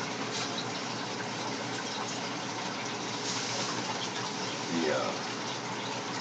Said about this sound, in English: the water level's starting to get low enough to where they're starting to struggle, and I need to add some water